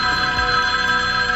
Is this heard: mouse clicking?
no